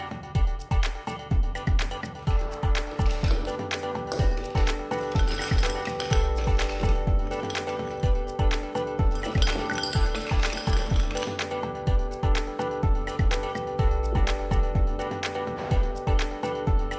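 Fresh ice cubes clinking and clattering into glasses, in rapid bright strikes that form an irregular, busy rhythm. The sound is close and fairly loud and keeps going the whole time, with no voices.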